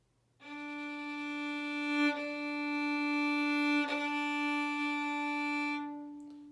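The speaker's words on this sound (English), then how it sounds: "D string, and then it sounds like this." One open D string on a violin, bowed in a long, even note with a couple of subtle bow changes, ringing out clearly with no talking.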